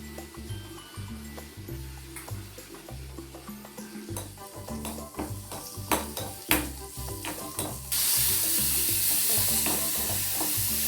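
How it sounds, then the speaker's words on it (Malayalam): Onions sizzling in hot oil during tempering, with a steady frying hiss, repeated clinks of a spoon stirring against the pan, and a louder, brighter sizzle burst near the end, close and alone. "വറവെടുത്ത് ഉള്ളി ഇട്ടിട്ട് ഒന്ന് വറവിടണം."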